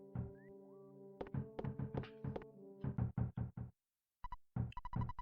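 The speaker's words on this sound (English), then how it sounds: "What an annoying knock." Insistent knocking at a door in the EarthBound video game: quick bursts of sharp, closely spaced raps in groups, with a brief pause near the end before a final short volley, over soft game music.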